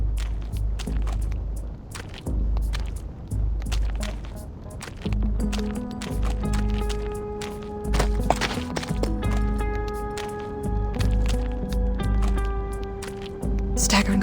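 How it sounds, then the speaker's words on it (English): Uneven, staggering footsteps of a limping figure in the video game Reverse: 1999, a steady run of close, irregular thuds heard over a low droning backdrop with tonal game music rising in partway through. "Staggering footsteps, almost limping."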